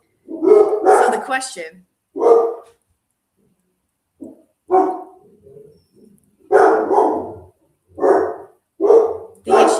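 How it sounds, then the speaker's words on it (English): Several dogs bark in loud bursts at someone walking past the house, with a person talking over them between volleys. "The dogs have discovered that somebody dares to walk near the house somewhere, and they're warning them off"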